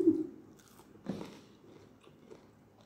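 Someone chewing sprouted mung beans with long roots, close to the mic. A crunchy bite lands near the start and a louder one around the middle, followed by softer wet mastication.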